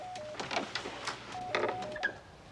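A telephone being dialed, with a quick run of short electronic tones and button clicks close by, a brief pause, then a few more tones.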